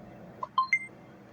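Phone in the Roblox video game dialing a call, three short electronic beeps rising in pitch in quick succession over a low background hum.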